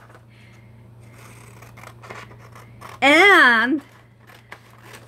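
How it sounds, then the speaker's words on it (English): Scissors fussy cut around shapes on a paper photocopy, with soft snips and paper handling up close under a steady low hum, a brief voice, and a loud sweeping squeal near the middle. "I'm going to fussy cut here"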